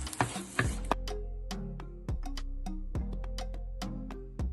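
Tomato sauce gets stirred into chicken cooking in a pot, with a spoon scraping and tapping the pan in several distinct strokes over a soft, steady sizzle nearby.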